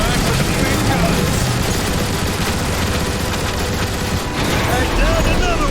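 Heavy sci-fi gunfire in the shooter Transformers: War for Cybertron, a dense, loud, unbroken barrage of rapid shots and blasts across the whole stretch, with voices mixed in.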